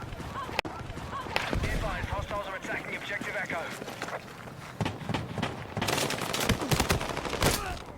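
Rapid marksman rifle gunfire in the Battlefield 6 video game, with sharp repeated cracks in clustered bursts, loud and close, mixed with game noise while a person talks over it.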